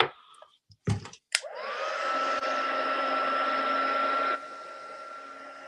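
A few sharp clicks and knocks, then a hair dryer switches on and blows steadily close by with a strong whine before cutting down to a lower hum, drying a piece of card after water and ink colouring.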